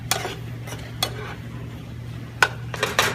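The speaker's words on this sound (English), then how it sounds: "You stir that around." A utensil scrapes and taps in a pan of creamy blackened chicken Alfredo pasta, with scattered sharp clinks against the metal over a steady low hum, close up and with no talking.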